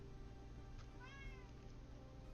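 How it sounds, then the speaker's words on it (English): A pet cat gives a single soft, drawn-out meow indoors, faint and close, against a quiet room hum. "we got the regular guest, my cat. She's trying to talk to us, as always."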